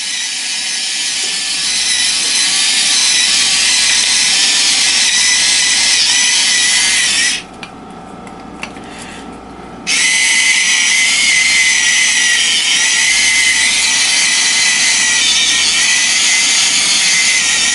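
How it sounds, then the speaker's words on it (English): An electric spice grinder grinds with a loud, steady high-pitched whir, stopping for about two seconds midway before starting again and running on. "So the spice grinder I was using ended up being completely worthless."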